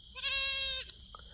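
A young goat kid on a farm lets out one loud, close, wavering bleat lasting under a second, followed by a faint click and a couple of soft knocks in a quiet background.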